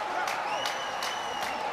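A fervent home crowd at an under-20 Italy versus Wales Six Nations rugby match in Treviso, heard as a steady roar of cheering and applause with sharp whistles, while a commentator talks over it.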